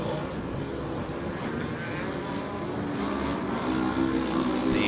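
Side-by-side off-road race cars at an Arctic Derby winter event, engines roaring steadily as they work through a tight dirt corner, a loud continuous drone that swells slightly toward the end.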